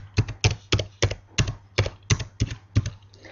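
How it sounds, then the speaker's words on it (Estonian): A username typed on a computer keyboard: about nine crisp keystrokes in a fairly steady rhythm, close and clear, with no talking. "Trükin oma kasutaja nime."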